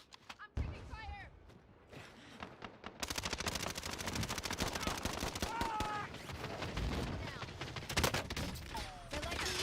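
Rapid automatic gunfire rattles almost without pause in a Call of Duty Black Ops Cold War and Modern Warfare Resurgence match, dense bursts with heavier thumps and occasional whistling tones, after a quieter opening with a single sharp shot.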